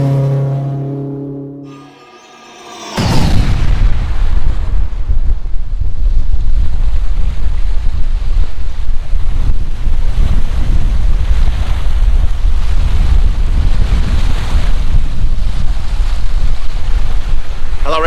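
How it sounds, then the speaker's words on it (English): Steady wind buffeting a microphone outdoors on Seneca Lake in upstate New York, with waves lapping under a continuous loud roar after a brief quieter opening with tonal sound. "I am sitting on Seneca Lake in upstate New York"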